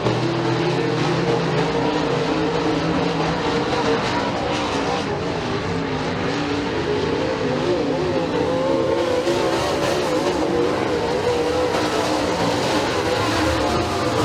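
Race cars roar around the McKean County Raceway dirt track during a heat race, a loud continuous engine drone with rising and falling revs, while a commentator talks over it.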